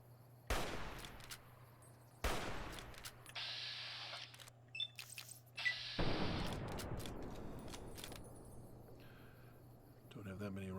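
Gunfire in Fallout New Vegas, a few sharp shots and bursts with echoing tails under steady game ambience and crickets, heard without speech.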